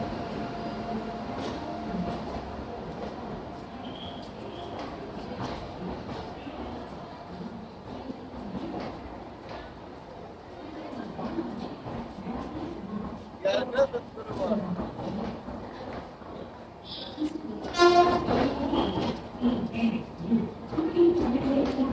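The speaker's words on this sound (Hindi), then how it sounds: "WDP-7 के साथ अराइवल होता है ताज एक्सप्रेस का" A WDP-7 diesel locomotive hauls the Taj Express into a station, a steady rumble of rolling stock with rising engine and horn-like tones near the end, under continuous nearby talk.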